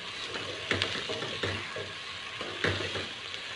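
Onions sautéing in a pan over a medium flame, a steady close sizzle with several rhythmic scraping stirs of a spoon against the pan.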